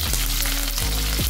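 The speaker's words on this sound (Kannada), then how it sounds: "ಸಾಸಿವೆ ಸಿಡಿತಾ ಇದೆ" Mustard seeds splutter and crackle in hot oil while tempering for sambar, a close, steady sizzle of frying with a few sharper pops, heard alone without talk.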